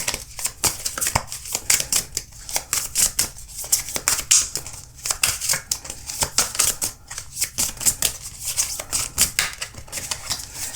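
Oracle cards are shuffled by hand in a rapid, continuous run of crisp papery slaps and riffles, close and steady for the whole stretch with no voices.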